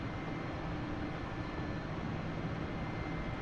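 A Mi-8 helicopter in the DCS flight simulator game produces a steady, dense engine and rotor drone while taxiing on the runway after landing, with no voices.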